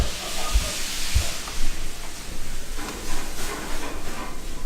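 Sausages frying in a chef's kitchen at Mullardoch House give a steady, loud sizzling hiss, broken by a few low knocks and bumps from the pan.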